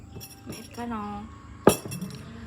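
Ice cubes clink sharply once in a glass of iced americano, a single bright chime after a quieter rattle, with a voice talking beside it.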